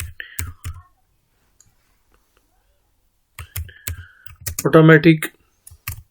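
Keys on a computer keyboard tap in short bursts while text is typed into Microsoft Word, crisp close clicks between stretches of near silence, with a voice speaking partway through.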